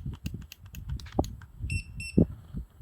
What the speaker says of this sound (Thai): เสียงมันก็จะดังบิ๊บๆนะครับ